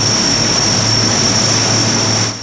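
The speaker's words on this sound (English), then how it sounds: "Outside, the Hercules was warmed up and ready for takeoff." Four-engine Hercules transport aircraft warming up for takeoff, its propeller engines giving a steady, loud, continuous drone with a high whine running throughout.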